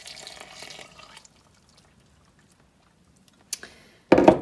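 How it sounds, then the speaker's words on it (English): Very hot water poured into dough mixture, a steady splashing stream for about a second before stopping, followed after a pause by a couple of brief clattering knocks. "Okay, so now I'm just going to add the really hot water."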